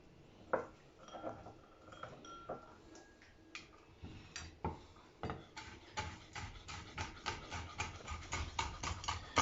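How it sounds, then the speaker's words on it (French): Roasted pistachios being roughly chopped with a knife on a board, a run of close, sharp taps that start sparse and irregular, then settle into a quicker, steady rhythm. "qu'on va aussi concasser. Donc couper un peu grossièrement."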